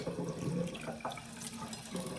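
Cold water running from a tap to wet the face at a sink, a steady close splashing and trickling flow with small shifts as hands move through it, fairly quiet, no talk.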